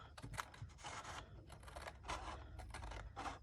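Scissors snip paper near the fold while an ephemera holder for a junk journal is made: several quick, close, crisp cutting strokes in short bursts, quiet, with no talking.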